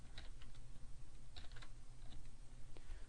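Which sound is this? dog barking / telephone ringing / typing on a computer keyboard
typing on a computer keyboard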